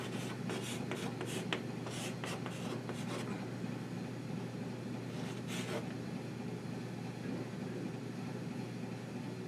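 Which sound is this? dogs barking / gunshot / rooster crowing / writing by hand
writing by hand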